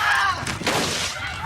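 A cartoon duck in the Aflac supplemental insurance commercial gives one loud, nasal, honking quack that lasts a moment, close and alone, with no speech.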